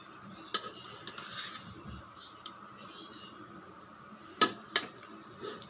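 Sweet pongal is stirred in a pot: soft scraping with a few sharp metallic clinks of the spoon against the pot, quiet and close.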